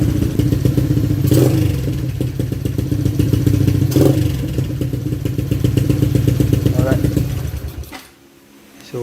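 A motorcycle with an open exhaust fires up and revs loudly and close, its engine note rising and falling in throaty bursts with mechanical clatter, before cutting out abruptly near the end.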